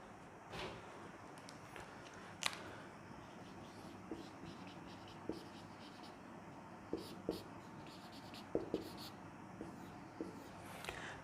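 Chalk or marker strokes on a board during a Class 12 biology lecture, a string of short, sharp scratches and taps at irregular intervals, moderately close in a quiet room with faint background voice.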